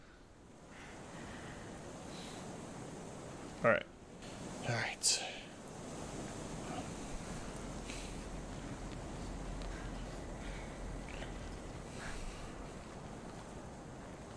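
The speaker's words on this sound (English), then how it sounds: "River." Steady rushing water of a river in the frozen winter landscape of the video game Kholat, a continuous wash of noise under a couple of soft spoken words and brief bumps.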